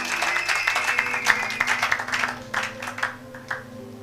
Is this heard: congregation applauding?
yes